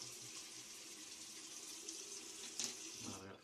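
Water running from a tap into a sink, with splashing as a face is washed, a steady close hiss and a louder splash near the end.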